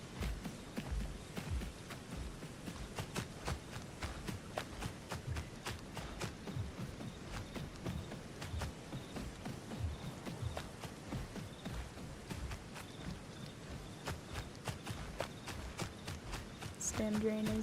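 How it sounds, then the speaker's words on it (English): Heavy footsteps from a creature in a survival video game thud along in a steady, plodding rhythm, loud and close, continuing throughout with game ambience underneath. "I know, their footsteps are so loud."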